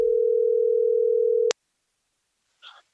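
A steady telephone dial tone hums for about a second and a half before cutting off abruptly with a click, followed by silence and a faint brief noise.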